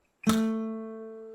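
A single note on the G string at the 2nd fret, struck with a percussive thumb slap on fingerstyle guitar, ringing clearly and decaying slowly in a quiet room.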